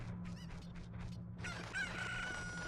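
A cucco chicken in the Ocarina of Time video game crows once in a bright, drawn-out call that follows a few softer clucking notes, quiet and clear over a steady low background hum.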